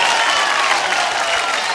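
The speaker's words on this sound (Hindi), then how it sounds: "जोरदार तालियां भाई लोग" A crowd claps in loud, dense applause at a live folk music show, steady throughout with no music.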